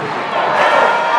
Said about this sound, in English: Crowd none too pleased with the stalling